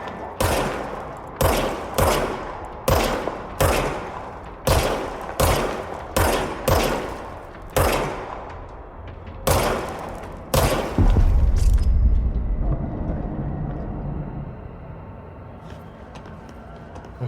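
Gunfire from the player's gun in the video game Control: a steady string of single loud shots roughly one per second, close and punchy, ending in a heavier boom with a rumbling tail that fades away.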